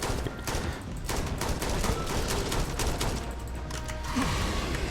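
Rifle gunfire in the sci-fi video game Starfield during a fight with a terramorph, a steady stream of dense, rapid shots and impacts over a rumbling game soundscape, loud and continuous throughout.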